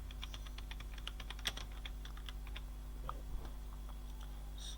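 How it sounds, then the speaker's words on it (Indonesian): Quick, light keystrokes on a computer keyboard come in a steady run and then a few sparse taps, close and fairly quiet over a low constant hum. "Kita ketik aja ini sweater wanita."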